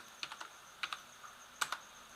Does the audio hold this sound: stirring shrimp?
no